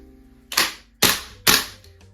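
An airsoft gun fitted with a new bolt firing on green gas: three sharp, snappy shots spaced about half a second apart, loud and close with quiet between.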